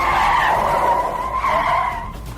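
A car skids with a long tire squeal, loud and close, the screech wavering and fading slightly toward the end, with no voices.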